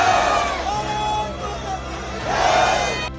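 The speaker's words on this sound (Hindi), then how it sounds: "सिविल डिफेंस वॉलंटियर बनने पहुंचे युवा भारत माता की जय और वंदे मातरम के नारे लगा रहे थे" A crowd of young people gathered at Tagore Theatre in Chandigarh to enlist as civil defence volunteers chants patriotic slogans, with swelling voices rising and falling over a constant background hubbub.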